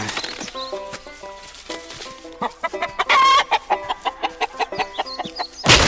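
Chickens cluck in a rapid, rhythmic series of sharp calls, close and fairly loud, with a burst of squawking in the middle and a sudden noise at the very end.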